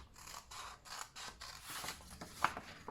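Scissors snipping through fabric for a double pouch, a steady series of close, crisp cuts in quick rhythm, quiet and alone without talk.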